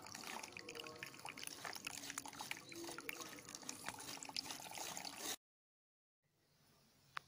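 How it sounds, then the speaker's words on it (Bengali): Water drips and trickles as grated ash gourd is squeezed out by hand, a busy wet patter of drops and splashes for several seconds, then sudden near-silence ending in a sharp knock. "দেখো বাবা কি সুন্দরভাবে জলটাকে বার করে নিচ্ছে"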